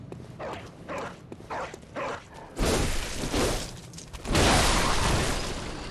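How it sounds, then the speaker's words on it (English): A dog in Bloodborne's Central Yharnam gives a series of short barks and yips at an even pace, then a loud noisy burst of crashing or scrambling follows and builds louder toward the end. "you've got a dog that's preoccupied with this building over here"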